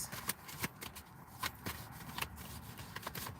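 Tarot cards shuffled and drawn from a deck of stiff, unusual card stock: a quick series of crisp riffling flicks and slaps, close and fairly quiet, with no talking.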